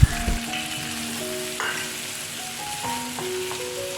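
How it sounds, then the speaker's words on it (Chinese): Chicken in spicy sauce with curry leaves sizzles in a pan, with occasional stirring scrapes, as the sauce cooks down. A steady, moderate frying hiss runs throughout with no voices. "最后再加入另一半的咖喱叶，再继续拌炒至酱汁收干。"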